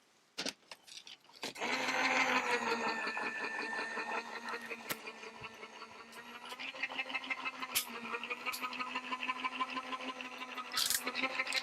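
Gemini die-cutting machine feeding paper and a butterfly die through its rollers, a steady mechanical whirring hum that starts after a few clicks and runs for several seconds, with scattered knocks and clatters, close and moderately loud.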